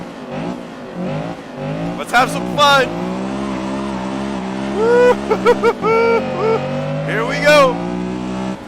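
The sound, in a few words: Honda Civic EG6 engine revving at Magione in video game Assetto Corsa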